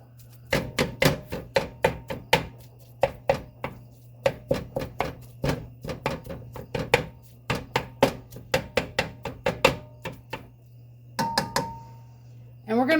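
Meat for lasagna rollups gets broken up in a pan with a utensil, giving a quick series of sharp taps and scrapes that land in an uneven rhythm, close by, with a steady hum underneath.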